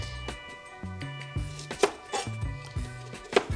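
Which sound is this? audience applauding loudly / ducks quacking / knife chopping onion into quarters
knife chopping onion into quarters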